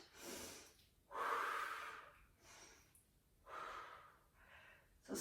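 Loud, close breaths drawn in and pushed out during a standing upper-body fitness exercise, several slow rhythmic cycles with sharp, gasping and snorting edges, no talking.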